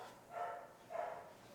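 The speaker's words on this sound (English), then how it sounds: "No, let that dog bark." A dog gives two short, moderately distant barks about half a second apart, faint against a quiet room background.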